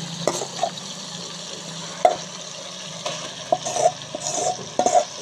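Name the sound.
cluster beans (gawar phali) added and stirred into frying masala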